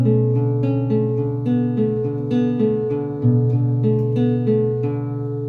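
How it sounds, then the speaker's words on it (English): Ringing plucked notes on an acoustic guitar's A string, picked in a steady rhythm with each note overlapping the last. They sound close and fairly loud, with no talking. "Play the A string."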